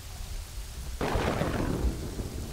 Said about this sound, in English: Ooh, that's some cool lightning.